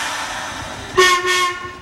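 A preserved Edmonton Radial Railway streetcar, the sole surviving original city car, rumbles along before a loud two-tone horn or whistle sounds twice in quick succession, close and clear with no talk.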